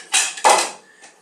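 Metal kitchen utensils and a knife bang against pans while peanut butter steel-cut oatmeal is prepared: two sharp, loud clanks in quick succession, then a fainter knock, close by.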